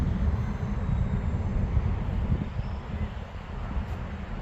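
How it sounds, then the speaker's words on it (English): An FX9706 RC model glider plane on its maiden flight: a steady, unbroken broadband rush of motor and air noise that holds fairly loud throughout. "This plane is a really nice glider"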